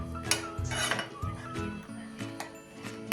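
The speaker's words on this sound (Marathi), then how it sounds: "ही आता हलवून आपण चांगलं उकळून घेऊया" A utensil clinks and scrapes against a pan as caramelized sugar and water are stirred and boiled, with intermittent metallic knocks over a low hum.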